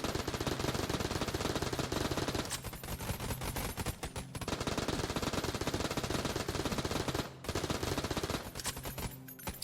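Dense, rapid gunfire from shock rounds in the video game Enter the Gungeon pours out almost without pause, loud and crackling, broken by a few short gaps.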